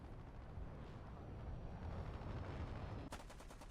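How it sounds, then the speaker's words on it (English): Continuous rapid machine gun fire from a Meteor fighter jet in a flight combat video game, a dense, rumbling rattle that stays low and steady, then sharpens into distinct fast bursts near the end. "The clouds vanish and I am able to gun him out of the air"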